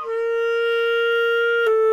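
A woodwind plays a steady C note with the top pinky key lifted, held clear and even for nearly two seconds with a brief articulation near the end before the tone resumes, close and alone.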